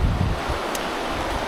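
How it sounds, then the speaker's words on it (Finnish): Strong wind buffets the microphone outdoors on an autumn fell hike, a loud steady roar with low gusty rumbling throughout. "Tuulee aika kovasti"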